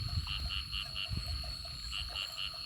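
Frogs croaking in the wild in rural Laos or Thailand, a repeated rhythmic series of pulsing calls rising and pausing over a constant insect drone and low rumbling background.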